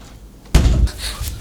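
A heavy door is shoved hard once, giving a loud close slam followed by a brief rattling rumble as it stays shut.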